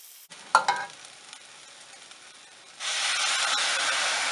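Rice tipped into a pan of softened onion and butternut squash for risotto, giving a burst of frying crackle at first, then a steady, brighter sizzle that swells and holds near the pan.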